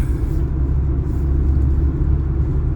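A car's engine and road noise make a steady, loud low rumble from inside the cabin while driving, continuous with no breaks.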